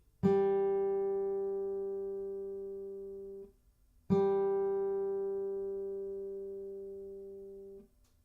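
A single guitar G string is plucked during tuning and rings out for over three seconds, then plucked again and sustained, a steady clear pitch fading slowly each time.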